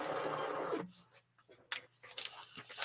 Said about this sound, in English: And my new printer's working good.